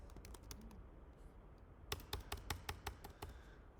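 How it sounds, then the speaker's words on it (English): Rapid typing on a computer keyboard, with irregular clicking bursts that quicken and grow louder partway through, close and alone with no talk. "I was typing that."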